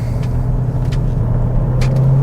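A cheap used Range Rover with a 4.4 litre diesel engine pulls hard, giving a loud, steady low rumble heard from inside the car with faint creaks over the top, and no talk.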